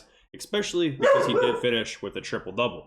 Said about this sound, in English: Sorry about my dog there.